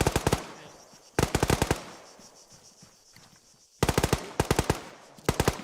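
Automatic rifle fire in the military shooter ArmA 3 comes in sharp rapid bursts, each a string of cracks, separated by quiet gaps with faint movement in between.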